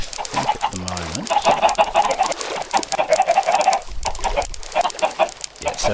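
Blocky video-game chickens from Minecraft give a clear, close cluck early on, followed by dense chirpy chatter and further fowl-like calls throughout.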